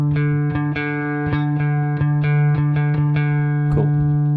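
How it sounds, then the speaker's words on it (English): An electric guitar's open D string is plucked again and again while being tuned up to pitch, a run of close, evenly spaced notes ringing over a steady drone, with no speech. "So the D string sounds a little bit flat to me, so I'm going to tune it up a bit."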